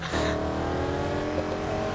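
Car engine in Need for Speed Heat, revving steadily through a drift, a sustained loud motor drone with harmonic tones, close and continuous, with no talk over it.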